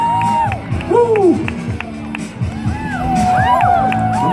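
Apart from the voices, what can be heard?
crowd cheering at parkour competition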